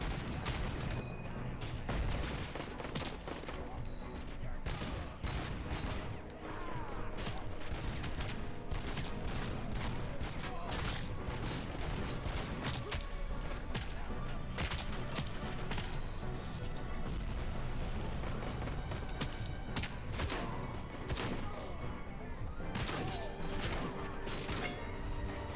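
Robocop's gun firing again and again in a Robocop video game, a dense, continuous barrage of loud shots layered over game music and effects with no pauses.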